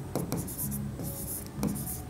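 Marker or chalk writing on a board during an accounting lesson, a steady scratchy stroking with short pauses between strokes, close and moderately loud, with a faint voice under it.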